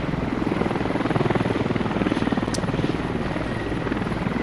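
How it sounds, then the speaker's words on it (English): Helicopter rotor chopping steadily and loudly throughout as it arrives to pick up a command squad in a military video game battle, with a continuous thudding beat under a high whine. "a helicopter has rolled in to pick up the command squad."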